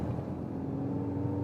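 Mercedes-AMG C63 S engine running in sport mode, a steady, loud droning hum heard from inside the cabin with a sound actuator adding to the note, with no talking over it.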